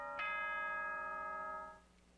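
A single bright bell-like announcement chime from the Danganronpa: Trigger Happy Havoc video game, struck once and ringing out with a steady decaying tone for over a second before fading.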